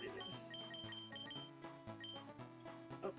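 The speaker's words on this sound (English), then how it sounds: "Oh, that's the timer." A kitchen-style timer goes off with repeated electronic beeping in a regular pattern, faint and somewhat distant beneath quiet background tones, with no talking.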